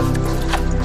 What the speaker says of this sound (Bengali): এটা করে জল খাচ্ছি।